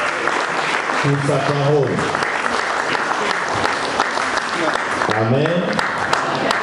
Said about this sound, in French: on acclame Jésus, on acclame le Seigneur de gloire